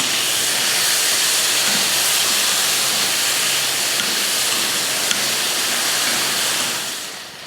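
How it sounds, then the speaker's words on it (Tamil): Two medium tomatoes sautéing with onion and garlic in a pan give a loud, steady sizzling hiss that holds evenly throughout, then tapers off at the very end. "இதையும் வதக்கிடலாம்."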